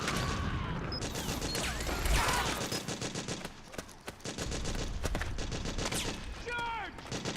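Battlefield gunfire from Metal Gear Solid 4, dense rapid automatic bursts with heavy impacts, loud and continuous amid shouting voices and chaotic combat noise.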